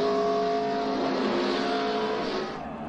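Stock cars at Daytona in the 2011 Gatorade Duel roar together as the pack accelerates at a race restart, a thick, loud engine drone that holds strong, then thins slightly as the cars pull away.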